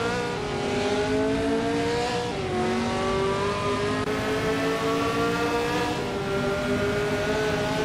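Multiple video game race cars, one a 1969 Le Grand Mark 11, drone loudly and continuously with layered engine whines shifting pitch as they accelerate, no voices.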